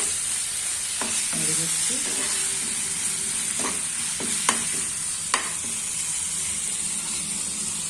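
Bhola fish curry sizzles steadily in a pan while a spoon stirs it, scraping and clinking now and then over the constant frying hiss; a voice speaks briefly.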